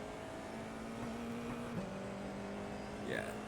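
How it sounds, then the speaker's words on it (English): F4 race car engine in iRacing at Circuit de Ledenon, a steady mid-pitched drone that drops as the gear shifts down near the middle, then climbs again as the throttle reopens toward the end, heard close and alone. "down to second gear, back on the gas"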